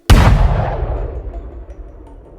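A loud explosion bursts in abruptly, then rumbles and decays for about two seconds, with a deep booming tail and no voices.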